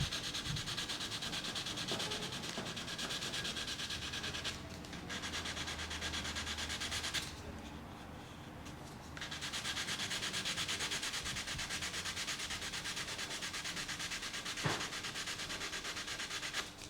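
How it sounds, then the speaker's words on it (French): A scale model's joints are sanded by hand in circles, diagonals and long strokes, making a continuous close rasping rub with a brief pause midway and no talk. "Alors un coup je ponce en rond, un coup en diagonale, un coup en long, en travers, au large."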